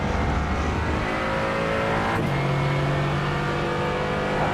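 A Porsche race car in the iRacing sim at Sebring revs hard and accelerates, its engine note climbing then shifting down to a steady high drone, loud and close.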